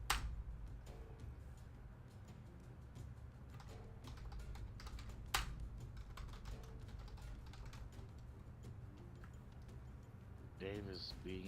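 Rapid clatter of typing on a computer keyboard runs continuously under a low background hum, with a few sharper key strikes standing out and faint voices near the end.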